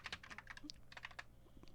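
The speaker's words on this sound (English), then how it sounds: "I can't even type. This keyboard is a gaming keyboard" Keys clatter on a gaming keyboard in quick, uneven bursts of clicky strokes, close and fairly quiet, with a short pause in the middle before typing resumes.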